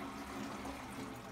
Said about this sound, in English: You want to run cold water. All right, so I'll just fill up like this.